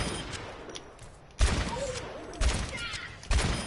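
Sniper rifle shots in the Overwatch video game, three sharp reports spaced about a second apart over busy game noise.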